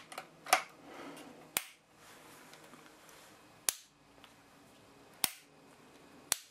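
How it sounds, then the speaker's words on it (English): Lithgow Crossover LA101 rifle being cocked, giving a series of five sharp metallic clicks and clacks spaced irregularly, close and distinct against a quiet background with no talking. "Let's just cock it."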